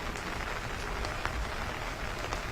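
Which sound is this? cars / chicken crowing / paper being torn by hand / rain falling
rain falling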